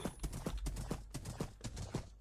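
Horse hooves clip-clop in a video game, a quick steady rhythm of close thuds with no talking over them.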